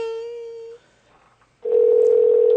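Telephone dial tone, a steady loud hum that cuts off after nearly a second, then a quiet pause with faint line noise, and the steady tone returns even louder for about a second.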